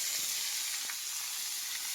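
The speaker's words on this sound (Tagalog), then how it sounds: "Ilagyan na natin yung ating pork limbo. So yan, palabasin lang po natin yung sarili ng mantika." Pork liempo sizzles steadily in oil in a pan, rendering its own fat, a continuous close hiss with a few faint pops and no talking.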